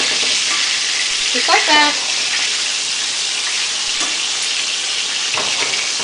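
Chicken pieces sizzle steadily in a hot pan for lemon chicken piccata, with a brief scrape and clink as pieces are flipped partway through; a voice speaks briefly over the constant frying hiss.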